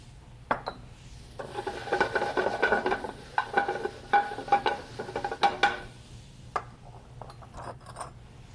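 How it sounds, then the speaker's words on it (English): Vegetables stir-fry in a pan, with a scraping, rustling stir of a utensil over soft sizzling in bursts, close and moderately loud, with no talk. "We'll stir fry these vegetables for approximately 2 minutes."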